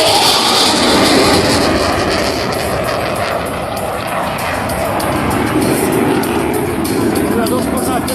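A Czech JAS-39 Gripen fighter jet roars continuously during an air show display, a loud, broad engine rush that holds steady throughout, with faint crowd presence underneath.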